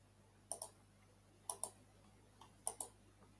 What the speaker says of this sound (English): Who the fuck is abusing their mouse and keyboard like that